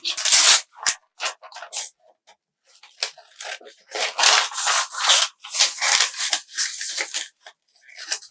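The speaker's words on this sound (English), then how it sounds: "So what I've done is I've cut it apart." Scissors snipping through a paper sewing pattern, close and dry, in irregular bursts of cutting and rustling paper with short pauses between strokes.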